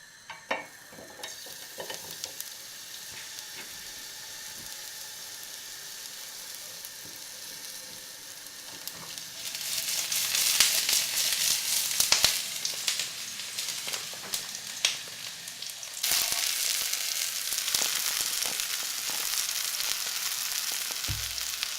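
Food fries in oil in a home kitchen, a close, continuous crackling sizzle that starts quietly and swells into louder, brighter bursts as more food hits the pan, with occasional clinks of utensils.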